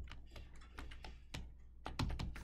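Computer keyboard keys tapped during game testing, about a dozen sharp, close clicks in an irregular rhythm, with a few heavier presses near the end and no talk.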